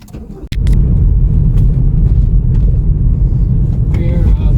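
A car drives on Peak District roads around Matlock and Bakewell, heard from inside as a steady, loud low engine and road rumble after a brief thump at the start.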